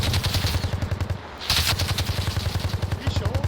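Rapid, continuous automatic gunfire in the Bellum video game, a loud rhythmic stream of shots that briefly pauses and resumes, with a few voices faintly underneath.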